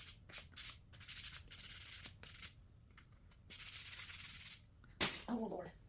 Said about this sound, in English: I'm going to sand this off to the side so I can just sweep.